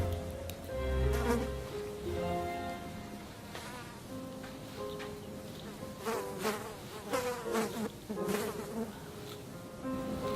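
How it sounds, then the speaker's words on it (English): Flies buzz in a room, a wavering drone that rises and falls as they move nearer and farther, with several overlapping buzzes and a brief louder pass near the start, no talking. "the other room buzzing with flies"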